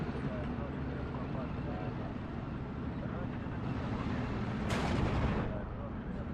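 Artillery fire from the Steel Division 2 war game rumbles continuously as dense low booms and distant battle noise, with a sharper blast swelling about two-thirds of the way through.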